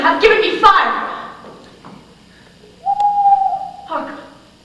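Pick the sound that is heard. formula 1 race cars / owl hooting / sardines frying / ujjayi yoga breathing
owl hooting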